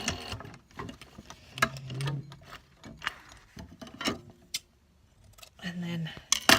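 Sewing machine stitching through curtain fabric in short bursts, its whirring motor starting and stopping between pauses, with talk over and between the runs.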